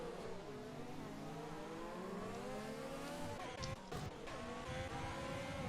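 A race car in a racing game at Sakhir brakes late into turn 1. The engine note drops through descending gear tones, then comes a brief tire squeal and a rougher rev.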